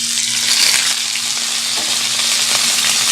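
Two tilapia fillets sizzle and fry in olive oil in a warm pan, a steady close hiss with faint crackles running throughout, no voices.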